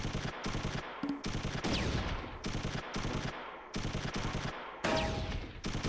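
Repeated bursts of gunfire and machine-gun fire from the World War II tactics game Close Combat III, Second Battle of Kharkov, in several loud, dense volleys separated by brief pauses, with no talk.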